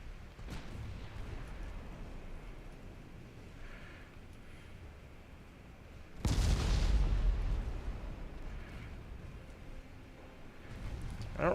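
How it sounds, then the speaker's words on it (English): Warship secondary guns firing in Ultimate Admiral Dreadnoughts, a steady low rumble of sea and distant fire broken by one heavy booming salvo midway and another building at the end. "now I would like my secondary guns to please fire"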